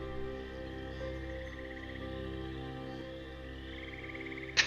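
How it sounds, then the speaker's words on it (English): Chorus of frogs croaking and ribbiting in a swamp, a steady layered background with repeated pulsing croaks and a brief sharp sound at the end. "you see these frogs kind of all looking at you, and they're ribbiting to each other"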